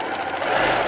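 Bertha, a fast piecing sewing machine, stitching quilt pieces for a jelly roll quilt, a rapid continuous mechanical whir and buzz held steadily throughout.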